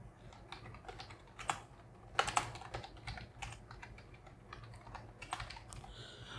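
Fingers tap on a computer keyboard in quick irregular bursts of soft clicks, fairly close and quiet, with no talking.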